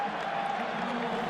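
Home crowd at a Minnesota Vikings football game, a steady wash of cheering and applause at moderate distance with no break, filling the whole moment.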